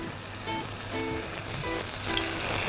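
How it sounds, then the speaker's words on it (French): Cheese bricks frying in a bath of hot oil give a steady close crackling sizzle that grows a little louder, with a few faint tonal clinks underneath. "Je vais maintenant les frire dans un bain d'huile bien chaud."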